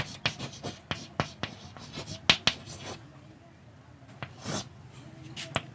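Chalk or a marker taps and scratches on a board during a maths lecture, making a series of sharp, close clicks and short strokes with pauses between them, under a lecturer's voice.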